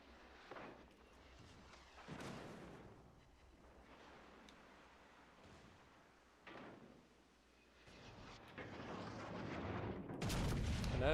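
Warship guns firing in World of Warships Legends, several heavy booming salvos spaced a few seconds apart, the last one loudest and closest, over a low rumbling engine bed with no talking.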